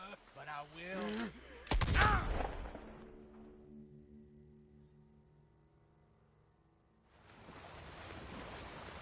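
Gunfire from a Western-style shootout in Red Dead Redemption 2: a loud, sharp burst around two seconds follows brief talk, then fades into a quiet ambient lull before background noise swells again.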